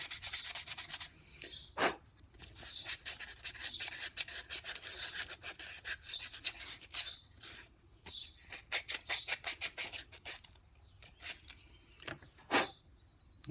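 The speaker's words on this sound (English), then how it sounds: "Let me sand this a little bit" A wooden fire starter is sanded by hand, giving steady rhythmic scratchy strokes that come close and fairly quiet, with brief pauses between bursts of rubbing and no talking.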